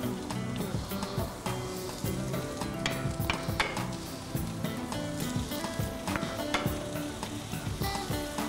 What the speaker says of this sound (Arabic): الان الدجاج عندي صار في منتصف المقلاة، نبدا نقلب الخضروات الان فوق الدجاج